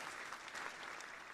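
Brief, soft applause from a small audience at a live show recording, a short patter of clapping heard at a distance.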